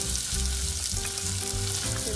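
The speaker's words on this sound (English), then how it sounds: "Let that saute a little bit" Half an onion and a clove of garlic, chopped, sauteing in a small pot, a steady close sizzle of frying that holds evenly throughout.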